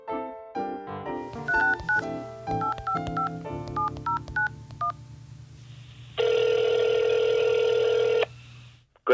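A phone call placed to the Glacier Conservancy: a rapid series of dial tones keyed in, followed by a long loud ringback tone, all close and clear with no talking.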